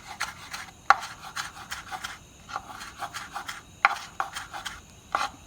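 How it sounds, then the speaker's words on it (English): Knife chopping spring onion on a cutting board, a run of quick, light cuts with a few sharper knocks, close by and without talk. "And just chop up me a little bit of spring onion."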